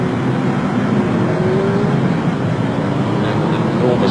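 Racing vehicles speeding past on the Carnaby circuit, including a TT and Honda championship rider accelerating down the straight, giving a continuous loud engine roar with a rising whine and no break.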